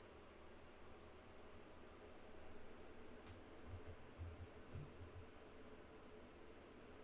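A caged cricket gives short, high, repeated chirps in small clusters, faint against a quiet room with low rumbling background noise.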